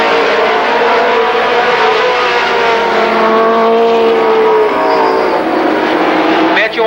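Camaro race cars roaring through a heat race at Columbus Motor Speedway, a loud continuous engine drone with rising and falling pitch as cars pass, with commentary over the top throughout.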